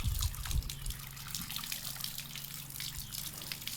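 Running water splashes and trickles quietly as bhurambhula berries are washed by hand, with soft gushing, dripping and light handling noises throughout.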